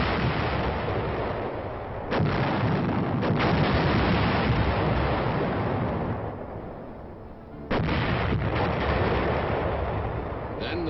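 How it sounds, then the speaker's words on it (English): Artillery fire in the Korean War: a dense, sustained roar of blasts and rumbling booms, loud and continuous, with sharp onsets near 2 and 7.7 seconds after a brief lull. "The men waited while artillery methodically blasted the oncoming Reds."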